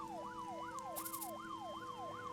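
An ambulance siren in the video game Troubleshooter wails in a steady repeating up-and-down cycle over a low background hum, with a brief high chime partway through.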